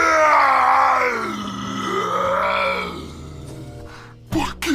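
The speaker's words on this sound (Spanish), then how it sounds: "Dando un alarido" A possessed man's drawn-out anguished shriek, part of a dramatized Spanish Bible reading, loud and close with wavering pitch and groaning tones, sliding down before fading into a short breathy cry at the end.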